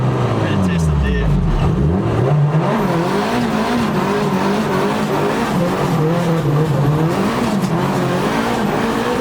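A 500 hp Nissan S14 Silvia drifts hard, its engine roaring and wavering through revs while tires squeal continuously, loud and close from inside the car, with people talking over it.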